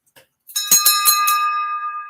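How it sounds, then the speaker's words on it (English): A small bell is struck several times in quick succession, bright metallic rings that merge into one long, clear, sustained tone fading slowly, loud and close. "just ring the bell"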